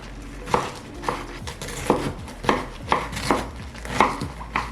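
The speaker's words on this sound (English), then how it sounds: "And then I just have to slice it into chunks that are small enough to fit in my" A knife cuts a head of cabbage into chunks on a cutting board, about nine sharp, evenly spaced chops landing close and crisp, with no one speaking.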